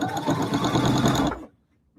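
A sewing machine stitches a denim hobo bag in a rapid, steady mechanical run, loud and close, then stops abruptly near the end, leaving near silence.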